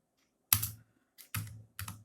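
A few computer keyboard presses on arrow keys and Enter in a quiet room: one sharp tap, a lighter one, then two more distinct thuddy clicks, close and isolated.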